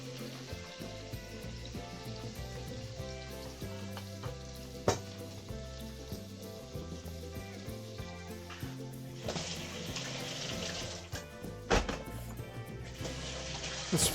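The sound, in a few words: garlic, onion and ginger frying gently with crispy pork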